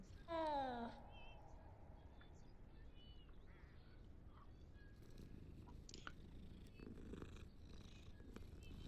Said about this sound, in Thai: เล่นกับน้องแมว